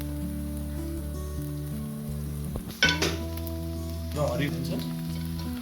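Chopped carrots and beans frying in a pan for chicken fried rice, a steady sizzle over a low hum, with a clattering burst of added vegetables midway and a brief voice near the end.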